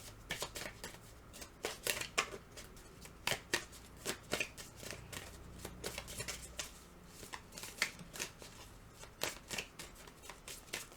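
Tarot cards being shuffled and drawn for a pick-a-card reading, close and fairly quiet, with irregular bursts of riffling and crisp slaps of cards.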